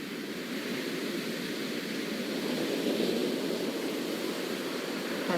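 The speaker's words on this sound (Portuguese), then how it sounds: "Já se ouve o mar." Sea waves make a continuous, fairly loud broadband roar with no distinct breaks or pauses, like surf heard steadily from nearby.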